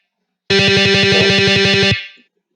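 Guitar Pro software playback of tremolo picking in sixteenth notes on a guitar's D string: a single distorted pitch repeated rapidly and evenly for about a second and a half, loud and close, then cut off with a short decay.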